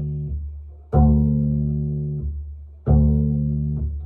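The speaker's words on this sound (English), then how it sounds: "pull the D string to the side parallel to the fingerboard, and release it." Two plucked pizzicato notes on an upright bass D string, each released sideways, parallel to the fingerboard, giving a round, resonant tone that rings for about two seconds before being damped.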